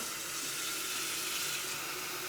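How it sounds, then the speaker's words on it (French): Water pouring from a kettle into a sink, a steady close splashing rush that runs without a break, with no voices. "je vais vider l'eau"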